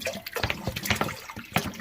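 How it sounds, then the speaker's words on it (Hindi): Water splashes and gurgles as it is poured into a steamer pot, a short, uneven, close pour heard on its own without talk. "पानी ऐड करें।"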